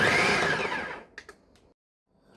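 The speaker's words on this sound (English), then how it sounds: "Alright, let's use the blender." A kitchen blender whirring as it chops boiled kale, a loud motor whine that winds down and stops, followed by a couple of light clicks and a short quiet gap.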